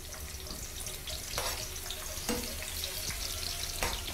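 Onions sweating in hot oil in a pan make a constant close, hissy sizzle with a few soft scrapes and clinks from stirring.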